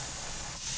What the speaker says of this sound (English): we've got a steady stream of steam coming out of our pot